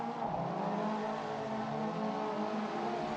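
Group N race cars in a racing video game surge off the line at the start, a dense, continuous roar of several engines revving hard together, loud and close, with no voices.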